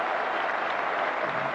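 A big crowd at an England versus Australia Test cricket match gives steady, dense applause after a batsman's fifty. The clapping is loud and continuous, with no voices standing out.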